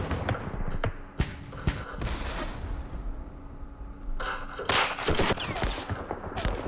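Bursts of small-arms and machine-gun fire from opportunity fire in the Vietnam war strategy game Campaign Series Vietnam, Dien Bien Phu scenario, crackling in several clustered volleys with sharp isolated shots between them.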